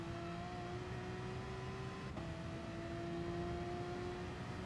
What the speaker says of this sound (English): Wait until your car is pointing straight towards where you want to go before you start to fully accelerate